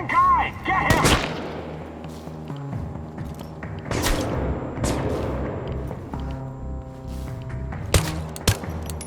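Repeated gunfire in the game Chernobylite as a squad engages a lone hostile: heavy, booming shots crack out in irregular bursts, several loud reports ringing with echoing tails, with faint shouted voices mixed in.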